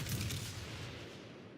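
The main guns of a New Mexico battleship fire in the World of Warships video game, a single deep rumbling salvo boom that fades over a second and a half.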